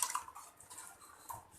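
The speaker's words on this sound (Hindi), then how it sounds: "साथ ही मैं इसमें पानी डाल दूँगी ताकि अच्छी तरह से हमारी ये दाल गल जाए" Water splashes and trickles into a pressure cooker holding lentils, a short, close, fairly quiet pour with small dripping and splashing textures and no talking.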